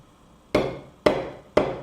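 Three evenly spaced, sharp taps of the convex face of a hammer head on the fibres of a wooden tenon resting on an anvil, close and clear, each with a short decaying ring, with no voices.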